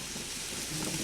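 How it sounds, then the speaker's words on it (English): Garlic sizzling in a hot pan, a steady soft hiss and crackle that holds evenly, close and fairly quiet, with no voices. "we got a little sizzly going here"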